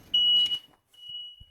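A home smoke detector gives two shrill high-pitched beeps, the first louder and close, the second fainter, with soft knocks around them.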